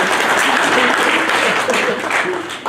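A church congregation clapping and cheering for the Lord, loud sustained applause from a crowd with voices mixed in, fading slightly near the end.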